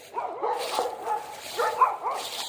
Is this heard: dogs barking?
yes